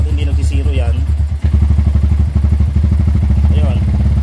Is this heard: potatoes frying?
no